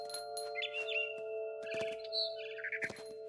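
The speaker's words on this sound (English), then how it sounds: "Follow the little bird." A small bird chirps in short, bright bursts of tweets, spaced irregularly, inside the game What Remains of Edith Finch on PS5, over a soft steady tonal ambient hum.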